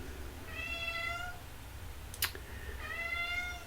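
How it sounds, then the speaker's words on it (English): A pet cat cries to be let in, with two drawn-out meows separated by a sharp click, set against a steady low background hum. "My cat's crying because she wants in."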